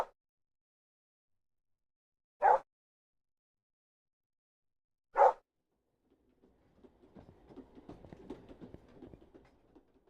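A dog in the video game Therapy Simulator gives two single, clear barks a few seconds apart against silence, followed by a low, rumbling wash of background noise.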